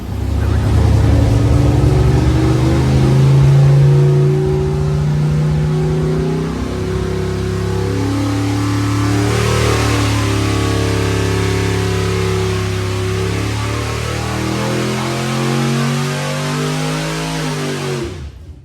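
A Mopar 512 stroker V8 with TrickFlow 270 heads roars on a dyno, loud and close, its pitch climbing and falling through sustained revs for the whole stretch, with a brief shout at the start.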